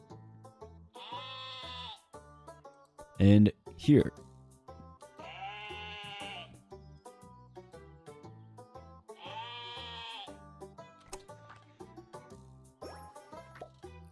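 Sheep bleat in the card video game Terracards as black sheep are placed, giving three long wavering bleats at a steady interval over a soft musical background. A brief voice and two sharp clicks come in between.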